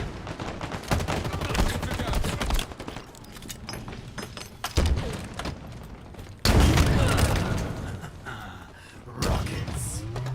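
Rockets and gunfire in the video game Modern Warfare II: dense bursts of shots and heavy booming blasts, loud and close and continuous, with brief gaps and a big explosion partway through.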